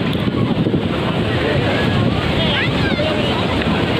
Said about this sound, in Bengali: চলছে দীঘা মোহনা উপকূল জলোচ্ছ্বাস